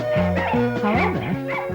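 A troop of former Paris circus dogs drawing a sleigh, barking and yipping in quick overlapping bursts with whimpering, close and loud.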